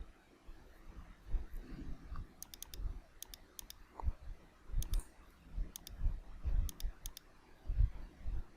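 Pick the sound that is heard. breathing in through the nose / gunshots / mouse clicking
mouse clicking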